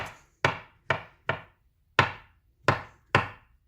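A knife chops mushrooms on a board in seven sharp, close strokes at an uneven, unhurried pace, with silence between them.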